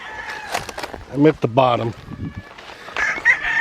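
Chickens at a mountain chicken ranch in Bamban, Philippines cluck and crow close by, with a rooster's loud crow rising mid-clip among scattered clucks while a person speaks briefly.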